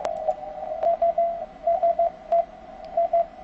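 Morse code CW signal received on an amateur radio with a narrow CW filter, a clean steady tone keying in short and long beeps over a quiet hiss of background noise.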